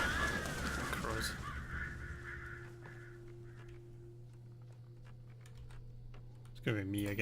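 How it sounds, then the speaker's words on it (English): Crows cawing in the video game Alan Wake: a harsh caw at the start and another near the end, over a low steady game hum and scattered ticking sounds. "Crows."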